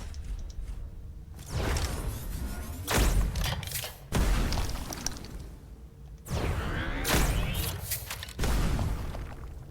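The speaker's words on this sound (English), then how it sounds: "Can you try and fire the artillery?" Artillery firing in the video game Hellpoint: several heavy booming thuds, each followed by a long rumbling whoosh, repeating roughly every two seconds, loud and close.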